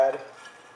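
Plantain seasoned with salt and a drop of coconut oil drops into a hot pot, a brief close sizzle and stir that flares at first and quickly fades to a soft hiss.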